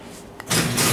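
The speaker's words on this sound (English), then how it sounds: "I'm gonna close this door again." A door is pulled shut in a tractor shed, a short knock followed by a broad rushing swell of sliding and rattling that stays loud to the end, with no talk.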